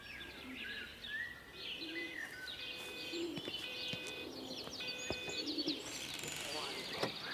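Doves coo softly and repeatedly among chirping birds in a quiet outdoor ambience from the game Everybody's Gone to the Rapture, the calls faint and scattered over a low background hush.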